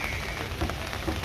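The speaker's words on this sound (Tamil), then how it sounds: "இன்றைக்கு இந்த வடகிழக்கு பருவமழை பெய்து கொண்டிருக்கிறது." Steady northeast monsoon rain falls outdoors in Takkolam town, a dense hiss of drops on surfaces running throughout with no voices, just continuous close patter.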